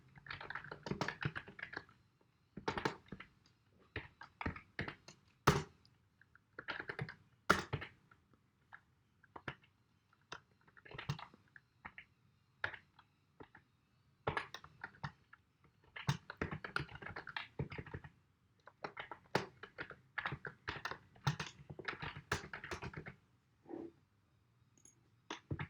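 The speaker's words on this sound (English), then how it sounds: "Let me type it out." Rapid clattering keystrokes on a computer keyboard while JavaScript code is typed out, coming in irregular bursts with short pauses between, close and fairly quiet, with no talking.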